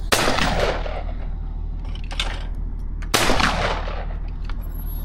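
Two loud, sharp blasts from an English hammer shotgun fired at clay targets on a farm shooting ground, each report ringing out and decaying over a couple of seconds.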